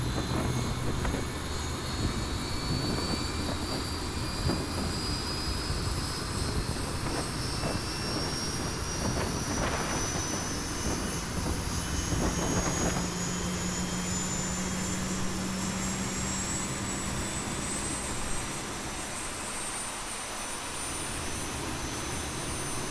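Jet engine spool-up on a simulated Boeing 737-800 in X-Plane 11, a steady broadband roar with a rising whine climbing in pitch over about twenty seconds, loud and continuous with no talk.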